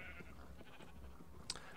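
A faint bleat from a Minecraft sheep on a Skyblock island, with one short call rising briefly over a quiet game background and no talk.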